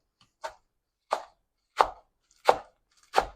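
A knife cuts through a load of cooking greens on a board in five crisp, evenly spaced chops. The strokes are close and loud, with near silence between them.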